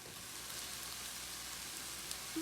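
Tomatoes and spices saute in a pan with a steady, soft sizzle that holds evenly throughout, close and alone with no talking.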